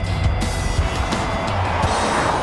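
A Jaguar F-Pace SUV with the 2-litre Ingenium diesel engine drives along, giving a loud, steady engine and road drone with faint low pulses from inside the cabin.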